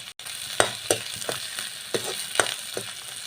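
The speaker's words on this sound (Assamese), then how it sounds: "তাৰপিছত পিঁয়াজখিনি দি দিছোঁ।" Chopped onions frying in a pan for an Assamese pea khichdi: a steady sizzle broken by several sharp, irregular clinks and scrapes of a spoon stirring, close and moderately loud.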